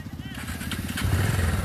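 A motorcycle stuck in a pothole on a broken, damaged road revs its engine in a throbbing, pulsing run that grows louder and rougher, while someone talks over it close by.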